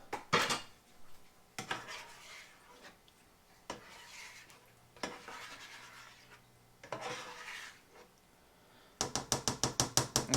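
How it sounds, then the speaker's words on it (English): Eggs being flipped in a frying pan in a home kitchen, a series of scattered metallic scrapes and knocks of a utensil against the pan, ending in a rapid run of sharp taps, fairly quiet overall. "We need to flip some eggs."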